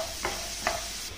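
Potato pieces roasting in hot oil for aloo roast, stirred with a spoon: a steady sizzle with two distinct scraping strokes, close up and without talk.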